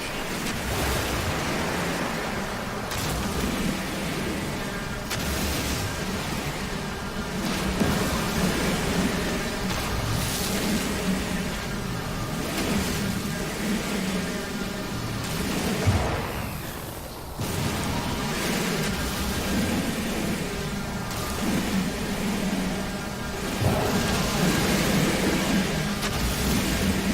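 Storm weather rages in the space survival game No Man's Sky: a steady roaring wash of wind and rain, loud and continuous, with a few heavier rumbling surges like distant thunder.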